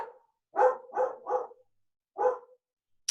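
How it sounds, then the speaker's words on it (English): A dog barks several times from a moderate distance, with short sharp woofs in an uneven sequence broken by brief silences, heard over a quiet background. "Uh-oh, got a dog barking."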